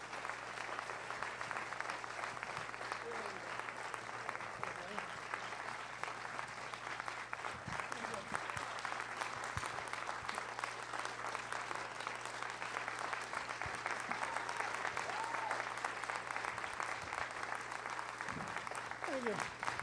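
An audience at a film screening applauds steadily to welcome Mayor Ed Koch, a dense even clapping that carries on for about twenty seconds at moderate volume.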